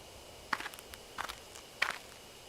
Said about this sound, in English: I hear footsteps again. They seem to be getting closer.